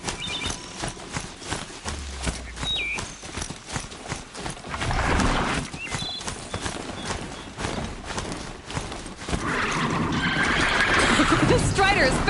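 A robotic Strider machine gallops in Horizon Zero Dawn, its rapid hoofbeats pounding in a quick rhythm under an excited player's talk, building louder toward the end.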